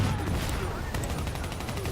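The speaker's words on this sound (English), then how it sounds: "this pistol that I'm wielding, Yeah. it actually kicks ass." Pistol fire in the video game Call of Duty: Black Ops III, a dense run of sharp shots crackling under a busy, steady wash of game noise with faint voices mixed in.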